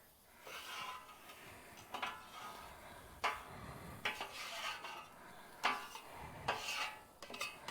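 A ribeye grilled cheese is flipped on a flat top griddle: metal spatula scrapes and clinks ring out in several sharp separate hits over a steady sizzle, close up.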